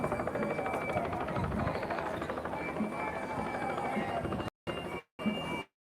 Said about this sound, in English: You got the chopper up there.